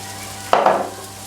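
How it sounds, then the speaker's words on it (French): A spoon or spatula stirring seasoned food in a frying pan with parsley and a little garlic, a single brief scraping burst of sizzle and clatter that fades quickly, close and fairly loud, no talking. "Je remue tout ça"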